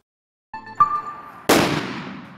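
Carbide shooting on New Year's Eve: a faint ringing metallic tone, then one loud booming bang with a long fading echo outdoors.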